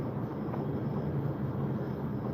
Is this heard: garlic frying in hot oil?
no